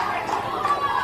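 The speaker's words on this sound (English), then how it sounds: "Oh, the crowd, they groan" A rugby league crowd at a Gold Coast Titans All Schools match lets out a sustained, fairly loud collective groan and murmur after a forward pass call, a steady wash of many voices lasting about a second.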